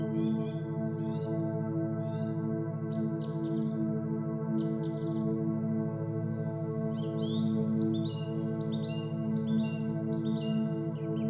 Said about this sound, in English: The European Stonechat, Saxicola rubicola, is a small passerine bird